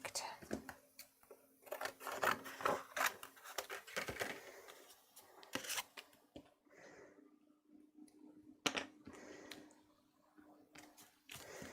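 Scissors snip through cardstock during paper crafting and card making: a run of crisp, close cuts in quick clusters, pausing midway and then resuming with a few more sharp snips.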